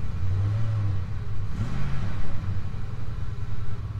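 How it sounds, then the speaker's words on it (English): A stalled truck engine idles with a deep rumble, then rises into a brief rev as throttle is applied before settling back down; close and loud, with no talking. "Let's give it a little bit of gas, see what happens."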